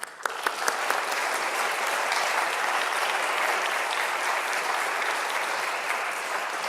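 Steady, full audience applause at an evening talk in Portland, Oregon, welcoming a speaker, sustained and dense throughout with no voices over it.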